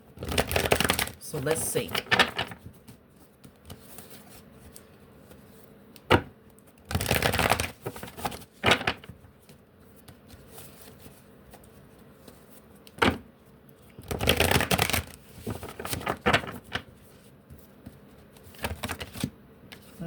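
A deck of tarot cards gets shuffled in several bursts of rapid riffling and flapping, with quieter pauses between them. A person speaks briefly in between.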